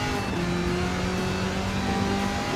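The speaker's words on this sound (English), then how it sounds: "love listening to the rumble of the engine" A Corvette ZR1 engine rumbles steadily on a race track, a continuous, moderately loud drone with a low engine tone and no voices.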